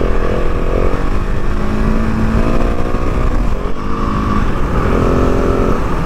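A KTM 690 Enduro R single-cylinder dual sport motorcycle engine running loud and close, a steady throbbing drone with slight pitch shifts as the throttle varies, no talk over it.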